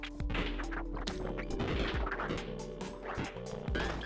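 A character smashes things in the video game Omega Streak, with a run of crunching, clattering impacts and thuds layered over busy game sound effects.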